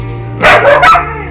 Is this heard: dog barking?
yes